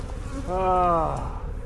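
Bees buzz around a tree crotch in a close, rising and falling drone, one insect passing near and fading over about a second against quiet outdoor background.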